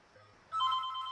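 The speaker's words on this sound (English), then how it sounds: "My phone is calling, and it's a spam call." A phone suddenly starts ringing for an incoming spam call, a soft, fairly faint electronic ringtone rising out of quiet room noise and continuing briefly.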